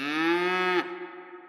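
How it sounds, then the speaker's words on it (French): A cow in a Swiss animal reserve near Lucerne lets out one loud, close moo that holds steady for nearly a second, then drops to a quieter, trailing groan. "mais surtout des vaches quand même"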